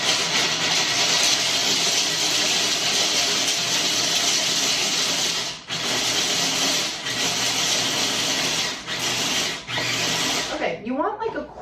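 Pistachios being ground for an avocado toast topping in a loud, steady mechanical whir that holds for about ten seconds with a few brief dips before cutting off.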